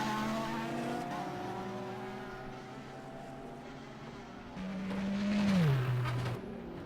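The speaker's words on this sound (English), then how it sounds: "Oh, that's a lockup from Nuno Lourenço." A race car in the rFactor racing game at Le Mans, engine drone shifting gears before a sustained tire squeal from a brake lockup swells loudly near the end and then fades, with no voices.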